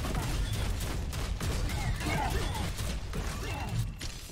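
Auto shotgun fire in the video game Prodeus, rapid overlapping blasts in a dense, loud barrage with clanking mechanisms and faint voices underneath.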